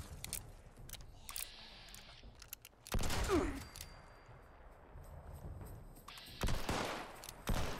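Gunfire from a weapon in Fallout 76, a few sharp loud bursts heard close, separated by quieter stretches of background game ambience.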